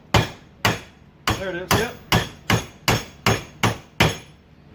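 Hammer tapping a part down during repairs on a 2009 Yamaha Grizzly 700 ATV, a steady series of about nine sharp metallic strikes at a regular pace, close and loud, with a brief voice speaking between blows.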